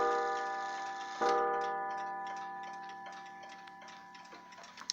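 An antique black wooden mantel clock rings a single chime that swells and slowly fades, followed by steady, close ticking that grows clearer as the tone decays.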